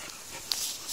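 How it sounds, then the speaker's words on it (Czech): A dog whines softly, a faint thin high whimper over a steady background hiss, brief and close. "Ten kňučí asi aby vylez"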